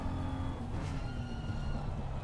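Race cars in a racing video game charge toward the Villeneuve chicane at a wet Imola, their engines a steady, dense roar held close and loud throughout with no break.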